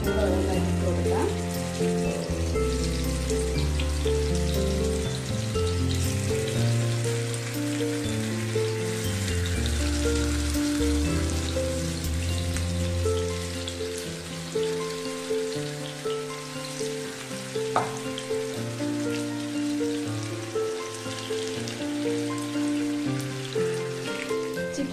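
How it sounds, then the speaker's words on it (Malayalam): Chicken pieces deep-frying in hot oil for a crispy Malayalam-style chicken fry, a dense steady sizzle and crackle running the whole time, loud and close, with faint background sounds and no clear talk. "എണ്ണ ചൂടായിട്ടുണ്ട്. അപ്പം നമുക്കിതിലേക്ക് ചിക്കൻ കഷ്ണങ്ങൾ ഓരോന്നായിട്ട് ഇട്ട് കൊടുക്കാം."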